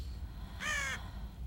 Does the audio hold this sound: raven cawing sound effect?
yes